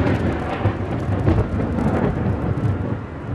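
A fierce thunderstorm sends deep, rolling thunder rumbling loudly and continuously, with a faint wash of rain beneath it and no talking.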